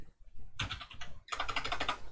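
Rapid bursts of keystrokes on a computer keyboard, close and crisp, in two quick runs separated by a brief pause, with no talking.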